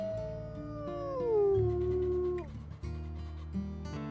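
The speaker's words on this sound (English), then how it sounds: "Alright, let's go ahead and start howling." Several wolves in the WolfQuest video game howl together, long gliding tones that rise and fall over a low rumbling game background, fairly close and steady before fading into ambient forest sound.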